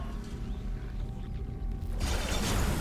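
Spaceship door mechanism in the video game Dead Space, a low mechanical grinding and clunking rumble that gives way to a louder hissing rush as the door opens.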